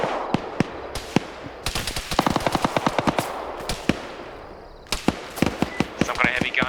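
Heavy gun fire to the south in a military video game, loud rapid bursts of sharp shots with brief pauses between volleys, close and dominant.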